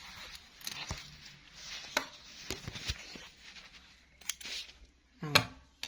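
Scissors snipping off excess sewing thread after stitching a pocket on a sewing machine, a few short crisp cuts scattered among soft handling rustles, close and fairly quiet.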